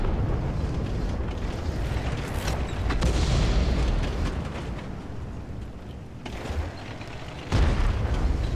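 Tank guns firing in World of Tanks, with the Rhm.-Borsig Waffentrager among them: heavy booming blasts with rumbling tails over a constant low engine drone, one strong shot near the start and another sharp one late, no voices.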